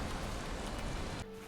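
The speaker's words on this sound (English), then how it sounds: "All right, so it's rainy." Steady rain hisses in the video game Valheim as an even wash of falling drops, moderately loud, then cuts to a quieter, thinner background near the end.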